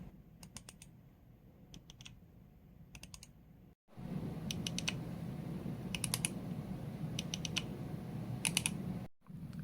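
Ion Extreme hair clipper's blade adjustment lever giving small crisp clicks in short clustered bursts over a steady motor hum, close and fairly quiet, with a brief pause partway through.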